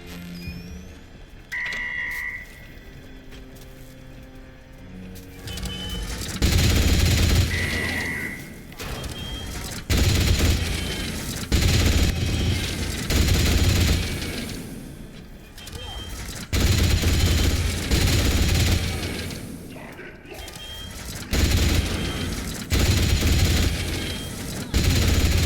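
Bursts of automatic gunfire rattle in the Atomfall video game, with repeated clusters of shots going off against a rumbling background.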